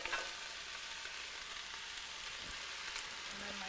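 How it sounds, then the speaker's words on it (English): Mushrooms fry in hot oil on a stovetop for a hobbit stew, giving an even, continuous sizzle with a few faint clicks and bumps from the pan. "I've got my oil on the stove. It's getting hot. I'm going to add in all my mushrooms"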